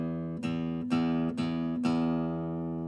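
The low E string of an acoustic guitar is plucked four times at an even pace as a tuning note, each pluck ringing clearly and close with no talking.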